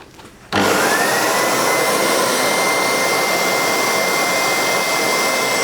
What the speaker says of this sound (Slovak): Keď stroj spustím, tak sa spustí táto rotačná kefa a točí sa.